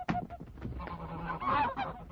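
A goose honks harshly and flaps in a struggle, staged as a drama sound effect, loud and close, with overlapping squawks and wing beats packed into a couple of seconds.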